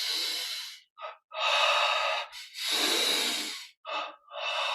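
Strong, rhythmic breathing in and out during a Yogoda energization exercise, a close series of forceful airy inhales and exhales, some long and some short, with brief pauses between and no talk.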